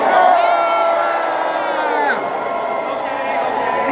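A live audience at a talk cheers, whoops and shouts loudly for team Android, a dense sustained roar of many voices that fades slowly over a few seconds.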